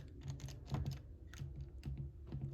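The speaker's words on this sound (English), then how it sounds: "I'm currently folding my jeans" Denim jeans being folded in a bedroom, giving soft rustling fabric handling with repeated short brushing swipes and light taps at close range, with no voices.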